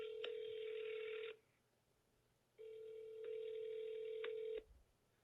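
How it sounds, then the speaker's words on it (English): Telephone ringback tone heard in a phone earpiece after dialing a number: two long bursts of a steady electronic ring separated by a pause of silence, moderately loud with no voices. "and then it's gonna ring. There it goes."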